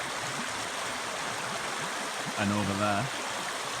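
A river near a clay bank flows with a steady broadband rush throughout, close and even, while someone speaks briefly over the water partway through.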